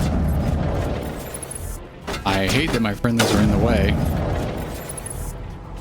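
Explosions and gunfire in the sci-fi video game Mass Effect rumble loudly and continuously, with someone talking over the booming din.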